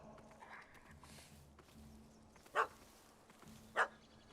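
Two short, sharp dog barks from a puppy in The Witcher 3, spaced about a second apart over quiet game ambience with faint hoof clops.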